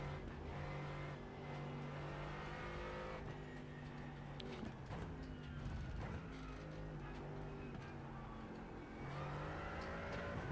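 A 718 race car drives hard through a televised race, its engine a sustained, steady drone with shifting harmonic pitch, loud and continuous throughout.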